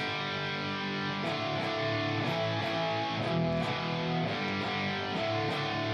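An electric guitar plays through the distortion channel of a Fender Tone Master Pro, dense sustained distorted chords shifting roughly every second, steady and fairly quiet, with no voice.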